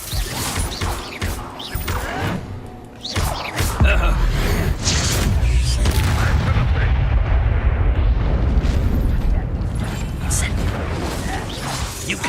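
Incendio fire spell blasts in the Hogwarts Legacy video game: bursts and explosive whooshes during a combat scene, then a sustained roaring fiery rumble, loud and close, with voices shouting in between.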